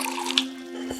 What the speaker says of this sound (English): help yourself to a coffee from the bar or a glass of chilled water from the tap here